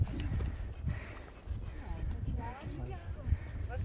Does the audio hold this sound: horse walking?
yes